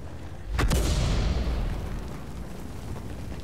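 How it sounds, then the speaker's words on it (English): Artillery fire in World of Tanks, a single heavy boom about half a second in, followed by a rumbling tail that fades slowly, with no talking. "Artillery decides he wants to shoot Bolagnaise in the TVP T50-51."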